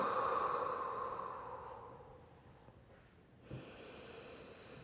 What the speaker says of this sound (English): 5 awesome quiet breaths here to just be